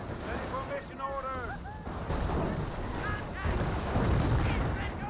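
Anti-tank gun fire in the video game Company of Heroes: repeated heavy booms and rumbling blasts over continuous battle noise, with a voice commentating faintly underneath.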